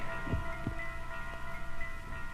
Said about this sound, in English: the heart beat on with a muffled sound